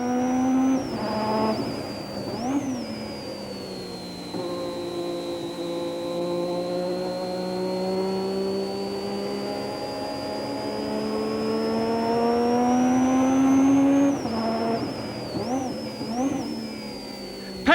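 A Formula 1 car lapping the Spa circuit in 1992, heard onboard with Patrick Tambay, its engine howling steadily at high revs for long stretches, with sharp drops and rises as it shifts gear and brakes into corners.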